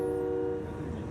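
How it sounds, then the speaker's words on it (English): Loud horn blasts from trucks at a convoy protest in downtown Toronto near Queen's Park, a sustained blaring tone that fades after half a second into dense crowd and street noise. "There's honking, of course."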